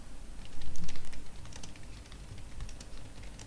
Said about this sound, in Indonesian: Di sini langsung kita ketik aja